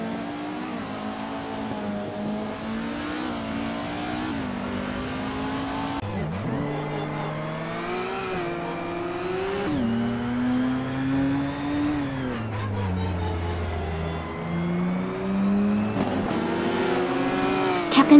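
A 2014 Norma M20 FC race car engine screams at high revs, climbing and dropping in pitch through repeated gear shifts as it races among other cars, loud and continuous throughout.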